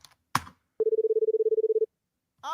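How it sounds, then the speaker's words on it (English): An edited-in telephone ring, a single burst of rapid electronic trills lasting about a second, loud and clean against silence, with short bits of sound before and after it. "Give him time to actually pick up the phone."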